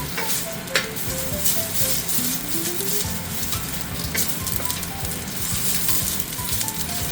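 Ginger sizzling in hot oil in a metal pan during a stir-fry, a steady, dense crackle with occasional stirring scrapes, close and continuous throughout.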